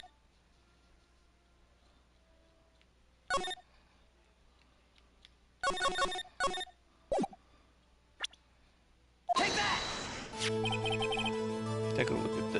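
A cute, girly-sounding cell phone ringtone starts suddenly after sparse clicks and short taps, playing loud and steady with layered bright tones through the last few seconds.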